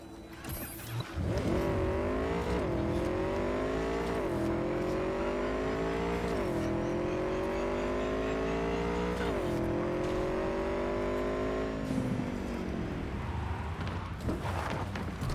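Motorcycle engine in Cyberpunk 2077 revving loudly and steadily through repeated rising gear shifts, pitch climbing and dropping several times, then easing off near the end.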